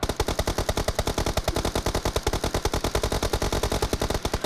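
Rapid automatic gunfire from PUBG Mobile, a fast steady stream of loud repeated shots fired continuously without pause.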